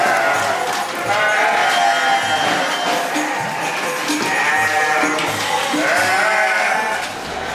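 Goats in a pen at a farm with pregnant does, bleating over and over in overlapping calls, loud and close, forming a continuous chorus of livestock cries.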